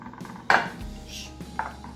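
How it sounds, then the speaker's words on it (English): A baking dish clatters sharply once while a chocolate lasagna crust is pressed in, followed by smaller scattered knocks and a later lighter clink, close by with no talking. "My baking dish is talking to me."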